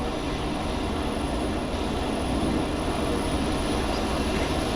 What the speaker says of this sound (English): Whoa, plane taking off.